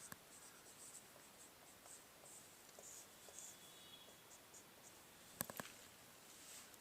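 Chalk or marker scratches across a classroom board in quick, faint strokes, with a few sharper taps near the end, and no voices over it.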